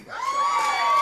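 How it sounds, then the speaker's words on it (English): Women cheering and whooping together inside a church, a dense crowd roar that swells and holds loud for the whole second. "That's a lot of women cheer."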